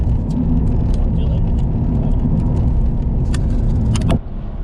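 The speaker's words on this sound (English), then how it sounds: "Is there ever not traffic on I-95?" Traffic on the I-95 highway, a loud, close, continuous roar of passing cars heard from inside or beside a vehicle, with faint clicks and jingles over it before the noise drops abruptly near the end.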